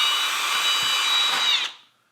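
Steady, high-pitched whine of a power drill boring out a small handmade biocenosis basket, running continuously close up and then cutting off, with the motor spinning down to silence at the end.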